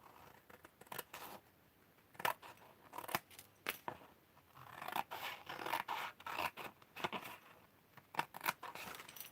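Scissors snip repeatedly through scrap bits of DIY stamped paper, close and crisp, with irregular cuts, rustling and scraping of paper between them and no talk.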